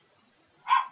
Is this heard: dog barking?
yes